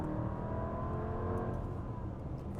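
A Lamborghini Urus engine revs up close, a steady loud low roar with a rising, accelerating whir and no other sounds over it.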